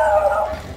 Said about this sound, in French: On se fait agresser par tous les chiens.